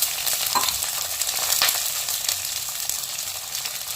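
Shallots, garlic and curry leaves sizzle and crackle as they fry in hot oil for a sardine curry, with steady, close frying noise and occasional stirring.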